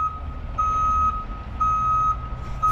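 A dump truck hauling oil-contaminated soil reverses into position, its backup alarm sounding steady evenly spaced beeps over a low engine rumble, fairly close and clear with no talk.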